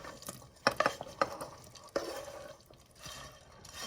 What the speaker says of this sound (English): After the meat's in, you'll stir this together